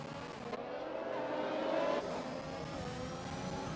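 Race cars circle the Mexico round of a sim racing game, a steady engine drone with one car passing by and revving, moderately loud, with no talking.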